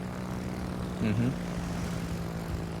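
Rocket planes in World of Warships drone with a continuous propeller-engine hum under a game soundscape, with a short louder swell partway through and a voice speaking over it.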